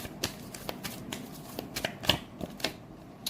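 Tarot cards shuffled by hand in a quiet room, a steady run of soft riffling slaps and flicks close to the listener, with no talking.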